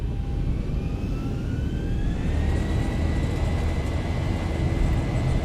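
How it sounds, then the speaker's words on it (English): Boeing 737-800 jet engines at takeoff power in X-Plane 11, a loud steady broadband roar with a rising whine on top, continuous and close. "Takeoff power set."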